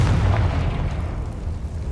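A Confringo explosive spell goes off in Hogwarts Legacy, a deep, rumbling boom that hits loud at once and fades into a low rolling tail over two seconds.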